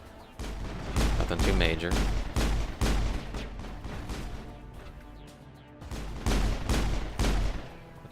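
Bursts of gunfire ring out in a firefight in the video game Mass Effect 1. Loud volleys of rapid shots come in clusters with short lulls between them, and a voice speaks briefly under the shooting.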